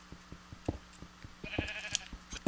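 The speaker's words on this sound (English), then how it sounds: "as you can see, the sheep is still in the hall" Sheep in Minecraft bleat several times over a steady rhythmic thudding of game sounds, the bleats fairly close and clear.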